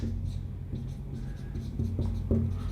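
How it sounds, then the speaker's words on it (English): Pen scratching across paper in short strokes, close up, over a low steady background hum with faint voices in the room. "Let me write it down here"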